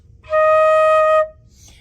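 One steady flute tone, the note E flat, held for roughly a second, bright and breathy, then fading into near silence.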